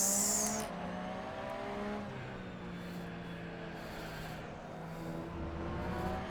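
Race cars in the Assetto Corsa racing game roar past on track in online competition, a sustained engine drone with shifting pitch and a brief tire squeal near the start, steady and fairly loud throughout.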